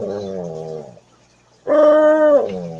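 Leo, a pet dog, gives two drawn-out howling, talking-style vocalizations separated by a short pause, the second louder and higher, close to the microphone with no speech.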